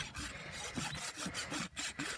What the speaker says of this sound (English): And use your rasp.